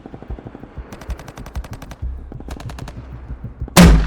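A machine gun carried by an automatic rifleman in Vietnam War jungle fighting, firing sustained rapid bursts of sharp cracking shots, ending in a heavier loud blast.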